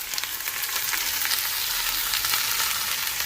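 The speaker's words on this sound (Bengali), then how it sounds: "এখন ভাজি করে নিব" Bottle gourd and potato frying in a pan, a loud, steady bright sizzle with crackling pops and occasional faint stirring, close up and continuous, no voices.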